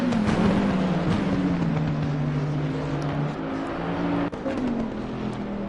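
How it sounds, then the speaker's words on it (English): Aston Martin race car in Assetto Corsa Competizione at Oulton Park, engine droning steadily at high revs with a sustained tone that dips and climbs slightly as it laps, loud and continuous with no talk. "So Incy's cracking around in his Aston Martin"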